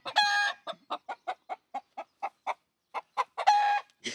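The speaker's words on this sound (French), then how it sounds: "C'est un gentil coq" A rooster named Phoenix, heard close and alone, gives a short crow, then a rapid run of a dozen or so evenly spaced clucks, and ends with another brief crow.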